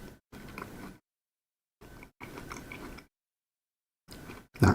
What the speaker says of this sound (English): That crunch is satisfying.